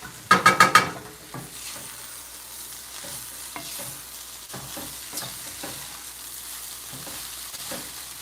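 Vegan fried rice with onion and bean sprouts stir-fries in a hot pan with a steady low sizzle. A quick run of metallic clanks comes first, then scattered scrapes and taps of a utensil.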